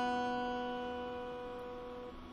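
One plucked note on the guitar's B string rings alone, clear and close, with a steady sustain that slowly decays over a couple of seconds.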